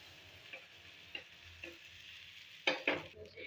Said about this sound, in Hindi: अब तवे पे हम डोसा बैटर डालेंगे।